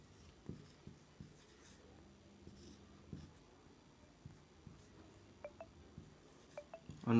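Pen writing on paper, quiet close scratching strokes in short irregular bursts, with a few faint clicks and taps toward the end.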